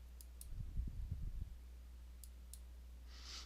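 A few quick mouse clicks tapping in a short cluster at close range while lighting design software is used, with a faint background hum and no talk.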